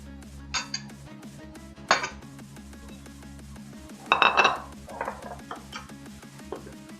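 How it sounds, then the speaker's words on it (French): Quinoa, small chestnut squash and almonds being spooned onto a plate, giving a few bright clinks and scrapes of utensil on crockery, with clusters near the start, midway and later, with a low steady hum underneath. "Je vais procéder au dressage de l'assiette"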